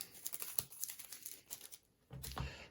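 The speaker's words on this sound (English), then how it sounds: "Shuffle the hero cards" Call to Adventure hero cards being shuffled, soft crinkly riffling and flicking bursts, close and quiet, with a short pause before a final thicker shuffle.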